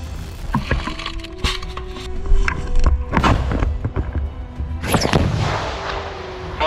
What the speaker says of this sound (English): The exchange of fire lasted for several minutes